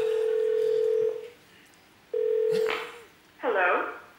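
Steady single-tone dial beeps from a landline telephone being dialed, two long tones then a shorter chirp, sounding close and clear between bursts of talking voices.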